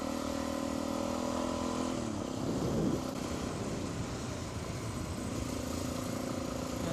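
A motorcycle engine drones steadily on a bush track. It swells slightly as the bike passes close by, then carries on at a constant mid-pitched hum, with no voices.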